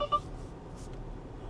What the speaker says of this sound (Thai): เสียงเตือนว่าเจอแล้วหรือเปล่าหรือว่าเตือนอะไร